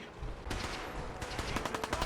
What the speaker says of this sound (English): Soldier, man the cannons.